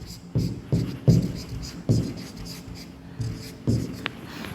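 Chalk or marker strokes on a board during a biology lesson: a series of scratchy, rubbing bursts at uneven intervals, close and moderately loud, with short gaps between words being written.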